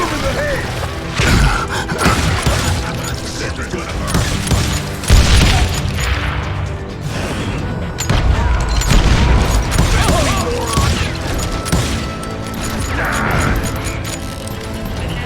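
Continuous loud gunfire and explosions in the Wild West shooter game Call of Juarez: Gunslinger, with dense booms and crashing impacts throughout, under intermittent shouted voices.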